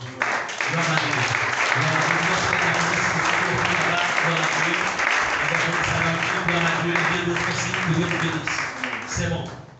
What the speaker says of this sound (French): Est-ce qu'on va acclamer tous les persévérants?